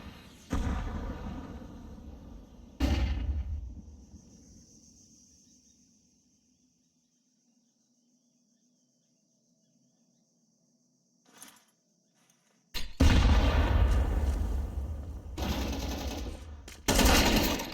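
Gunfire bursts in a Counter-Strike competitive league match, a loud volley near the start, then a long quiet stretch with a faint shot, followed by dense heavy rapid firing toward the end.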